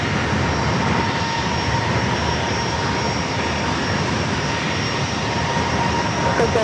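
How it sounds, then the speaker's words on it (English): An Alaska SkyWest Embraer E175 jet arriving at San Diego airport makes a loud steady roar with a sustained whine, continuous and close, with no talking over it. "Next arrival is Alaska SkyWest, flight 3482, coming in from SFO"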